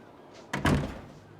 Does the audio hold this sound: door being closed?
yes